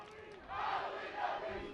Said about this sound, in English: And now the Bountiful Braves student section trying to cheer on their squad